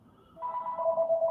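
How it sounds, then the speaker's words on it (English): A telephone rings during a live stream, a steady electronic ringtone with two sustained tones swelling in after a quiet start and repeating in a pulsing pattern, fairly close and clear with no talk over it. "It's not a live stream if the phone doesn't ring."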